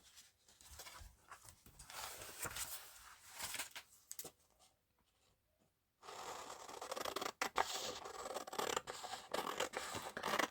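Scissors cutting through journal paper, repeated crisp snips and scratchy paper rustling, close and quiet, pausing briefly in the middle before resuming with sharper cuts.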